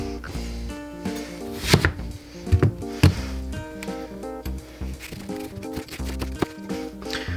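A sharp knife chops an onion on a cutting board with irregular knocking strokes, a few louder thumps among lighter taps, close up and without talk, while background music with a steady tone plays underneath.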